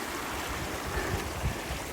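A river rushing through a crossing in a mountain valley near Mount Rose by Lake Tahoe, Nevada, a steady broadband wash of flowing water with low gurgles, close and continuous, no voices.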